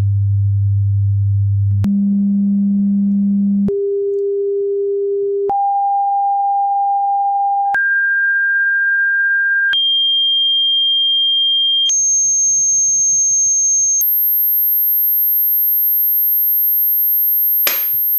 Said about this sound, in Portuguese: você deve ter reparado que eu vim dobrando as frequências, desde 100 Hz até alguns milhares de Hz